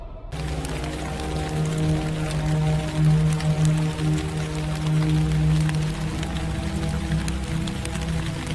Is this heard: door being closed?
no